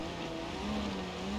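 A Barstow car's engine drones steadily with a rising tone in BeamNG.Drive, racing around a dirt track, a continuous moderate hum with no voices.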